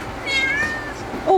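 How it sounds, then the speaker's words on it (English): Maple, a pet cat, gives a drawn-out nearby meow followed by a short, higher chirping call at the end. "This is one of my cats."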